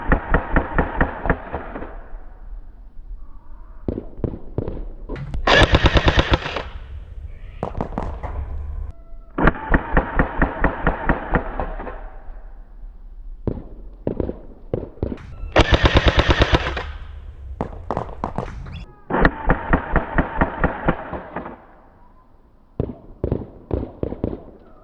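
A Modify XTB Stinger gel blaster fitted with a Muzzletech Hellfire hop-up fires in loud, rapid full-auto bursts, each volley a fast mechanical rattle separated by short pauses and single clicks, close and without talk.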